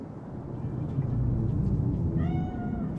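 A cat meows inside the video game Cyberpunk 2077, a drawn-out rising and falling cry near the end over a low, steady game ambience rumble.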